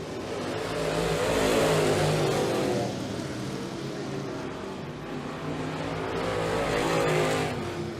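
Late model race cars in a Pro Fabrication Late Model division feature at Humberstone Speedway roar around the track, engine noise swelling and fading as the pack passes twice, loud and continuous with tire squeal.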